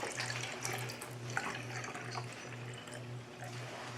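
Apple juice being spritzed from a spray bottle onto a ham: a wet, hissing spray with drips, close and moderately loud, over a pulsing low hum.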